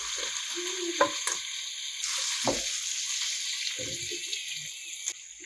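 Mutton pieces go into a pan of tomato and spice masala, giving a steady frying sizzle with brief stirring scrapes and clinks of a utensil, close and fairly loud, with no talking.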